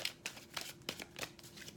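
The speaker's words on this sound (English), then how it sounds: "I'm shuffling for you as I meditate on your energy" Soft, close riffling of a Hermetic Tarot deck being shuffled by hand, a series of quiet papery flicks and slides in an uneven rhythm, faint and with no talking.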